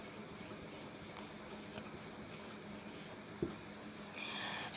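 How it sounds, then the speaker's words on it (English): A pen writes the heading of a notice about an excursion, a faint, continuous scratch close up. A soft tap and a rustle come near the end. "So we'll write the heading"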